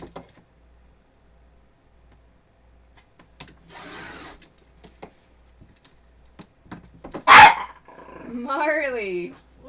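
Marley the dog barks and growls at close range, a few sharp bursts and rough, drawn-out vocal sounds among quieter household noises, with a person talking at times.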